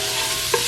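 Garlic sizzles in butter in a pan while an Alfredo sauce is being made, a steady, close frying hiss with a brief stir in the middle.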